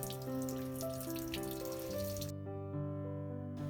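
Water spilling over the rim of a filled lotus pot on a rooftop garden, a steady close trickle and splash that runs continuously without any voices.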